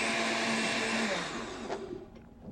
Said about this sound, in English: And if not, put it in the blender.